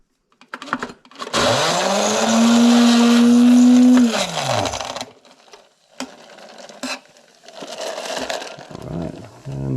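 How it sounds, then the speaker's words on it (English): A blender whirs loudly through a cocktail with a scoop of ice, its motor pitch rising, holding steady for a few seconds, then winding down, followed by quieter clinks and handling noises. "we're going to blend that up in the mixer"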